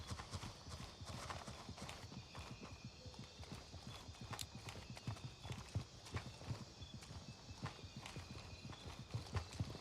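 Footsteps in the military shooter Gray Zone Warfare: a steady, fast run of dull thuds on a hard surface that continues through the whole stretch, moderately loud against low background noise.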